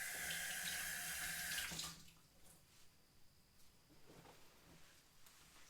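Tap water runs steadily from a faucet into a sink to wet a chamois rag during a home crafting session, then stops abruptly, leaving quiet handling noises and faint clinks.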